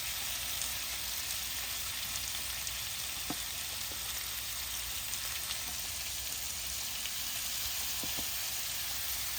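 A whole package of bacon sizzles on a Ninja Woodfire XL Pro grill with the lid open, giving a steady, dense crackling hiss with occasional sharper pops, and no voices.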